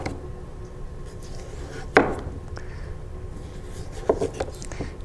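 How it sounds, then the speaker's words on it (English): Knife chopping a vegetable into slices on a cutting board, two distinct sharp knocks a couple of seconds apart followed by a few lighter taps, close and clear over a quiet room. "Cut this into slices"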